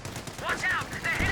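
A base machine gun hammers out a sustained burst in Company of Heroes 2, dense and steady, with a commentator's voice running over the gunfire.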